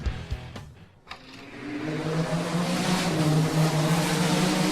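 A yellow Camaro and a green Barracuda, American muscle cars, race side by side, a loud engine roar building into a sustained, rising, revving drone after a brief lull, heard close and continuous with no talk.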